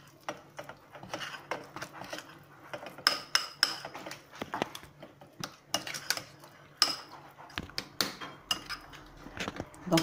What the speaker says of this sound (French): Donc là, j'ai bien mélangé la farce.